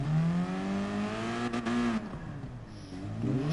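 Race car engine in Gran Turismo Sport revving and falling off, a loud continuous harmonic whine that dips and climbs again toward the end, close and steady throughout.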